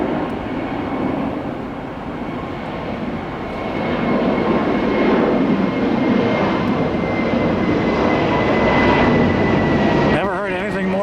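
A Spirit Airlines airliner, flight 813 to Dallas Fort Worth, takes off at Tampa International Airport with a loud, steady jet engine roar that swells and holds, broad and rumbling, close to the listener.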